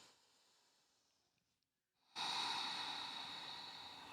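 A deep full breath during a beginner yoga flow: a faint slow exhale fades to near silence, then a strong, close, sustained inhale rushes in and holds steady to the end, with no talking.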